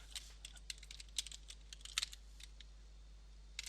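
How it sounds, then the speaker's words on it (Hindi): Quick, light clicks of fingers typing the word Google on a computer keyboard, a short irregular run of close, soft key taps over a quiet room. "यहाँ पे गूगल टाइप किया"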